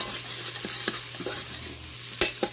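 Vegetables and a little fresh chopped garlic fry in a pan, giving a steady, close sizzle with a few sharper scrapes and clacks of stirring, and no voices.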